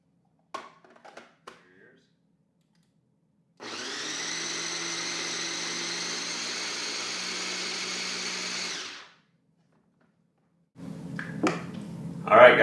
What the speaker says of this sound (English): Alright guys, we got that all blended up